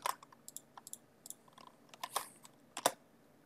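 Someone types on a computer keyboard in short, irregular bursts of close, crisp clicks and key taps, ending with a firmer press.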